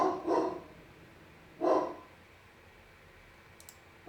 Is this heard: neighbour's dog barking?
yes